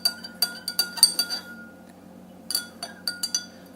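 A spoon stirring salt into a glass of water, bright rapid clinks of metal on glass in two bursts separated by a short pause, close and clear with no talk.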